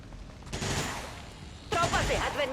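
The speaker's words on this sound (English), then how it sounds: "Nice bit of return fire" Return fire in an XCOM-style turn-based tactics game, dense rattling bursts of automatic gunfire in two waves, the second louder and harsher, with voices underneath.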